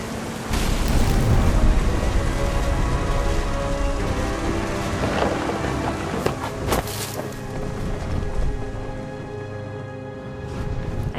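Steady heavy rain with rumbling thunder in the video game What Remains of Edith Finch, loud and close, a dense continuous wash with a few sharper cracks and no voices.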